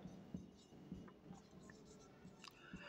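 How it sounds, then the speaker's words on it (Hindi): An example sentence is written by hand during a Hindi grammar lesson: faint, soft scratching strokes with small irregular taps, quiet and close, no talking. "जैसे हम यहाँ पे एक उदाहरण लिख रहे हैं"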